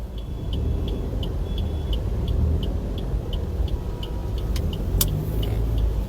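A vehicle from West Bengal drives past on a road, heard as a steady, moderately loud engine and tire rumble with faint rhythmic ticking over it. Nobody speaks.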